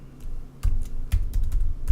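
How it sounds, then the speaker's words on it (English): Someone types an email address on a computer keyboard, producing a close, quick run of uneven keystrokes with heavier thumps near the end. "So we have to type in some type of an email."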